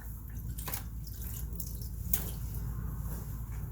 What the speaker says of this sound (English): So we wash her really good and then we rinse her clean